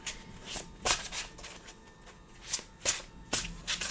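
Tarot cards handled and laid down during a reading: several crisp papery slaps and shuffling swishes in an irregular rhythm, close and fairly quiet, with no talking.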